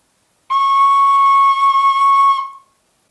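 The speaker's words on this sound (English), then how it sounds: "C sharp requires taking all your fingers off the whistle." A tin whistle holds a single clear C sharp, played with all fingers lifted off the holes, sounding as one bright sustained tone of about two seconds that starts abruptly and fades out, with no talk.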